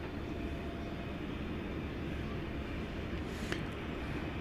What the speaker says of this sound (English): That was an Airbus A321, American Flight 1222, going to Phoenix, Arizona.